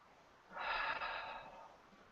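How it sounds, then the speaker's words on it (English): A single deep breath is drawn in audibly through the nose and mouth, a close, breathy rush lasting about a second before fading out. "Taking a deep breath."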